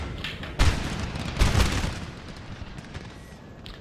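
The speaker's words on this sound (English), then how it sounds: "Let's concentrate artillery canister shot." Canister shot from massed artillery in Napoleon: Total War with the Darthmod mod, two heavy booming volleys close together near the start, then a rumbling, crackling battlefield din that slowly fades.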